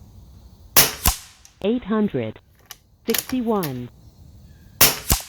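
A .25 Avenger bullpup air rifle fires slugs at a 100-yard target. It gives three sharp, snappy cracks spread across the span, and someone speaks between the shots.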